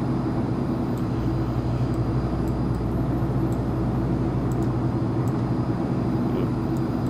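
Steady, loud droning of a turboprop airplane cruising in the flight simulator X-Plane 11, a constant engine and propeller hum that holds unchanged for about seven seconds.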